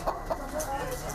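Prize-winning pullets clucking on a farm, a couple of short close clucks followed by softer continuous chicken chatter and murmuring, with no one speaking.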